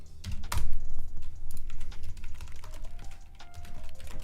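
Steady typing on a computer keyboard during game engine coding, close and moderately loud, with irregular rapid key clicks and a heavier thump near the start.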